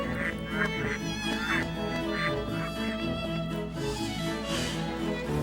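Ducks quack and honk in a city festival scene of the Baten Kaitos video game, a repeated rhythmic honking call over a bed of game music, moderately loud and steady throughout.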